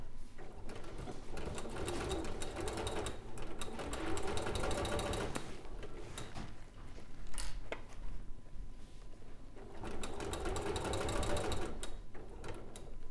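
A domestic sewing machine stitches a no-waste tote bag in bursts of rapid mechanical whirring, running, pausing briefly, then running again at moderate loudness.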